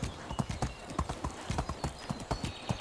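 Horse hooves in the medieval game Medieval Dynasty clip-clop in a steady trotting rhythm, close and clear across the whole stretch, with no voices.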